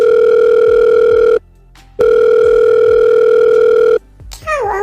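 A phone call rings out unanswered, a steady ringback tone sounding twice in long bursts with a pause between, then cutting off into a brief garbled electronic warble at the end.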